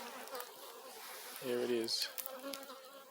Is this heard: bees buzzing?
yes